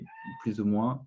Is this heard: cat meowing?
yes